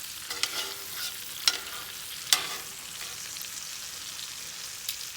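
Deer backstrap fries in butter in a pan, a steady soft sizzle broken by a few sharp crackles and spits, close and quiet with no talking.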